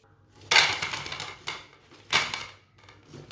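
Shami kebabs made without chicken being set onto a plate, giving two bright clattering clinks of dishware about a second and a half apart, each followed by softer scraping and rustling, close and fairly loud, with no talking.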